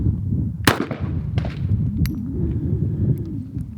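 A .50 caliber Desert Eagle fires a single loud, sharp shot at a bulletproof glass panel outdoors, followed by a few faint clinks and rattles over low background rumble.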